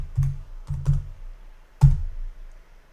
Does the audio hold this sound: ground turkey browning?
no